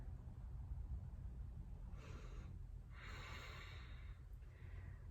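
Breathing during a hip-opening yoga flow in goddess pose: a few soft, airy breaths, close and quiet, over a low background hum.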